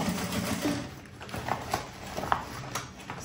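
Sewing machine stitching handbag fabric right sides together, a soft, fairly steady whirring rattle with faint rhythmic ticks, close up and alone without talk.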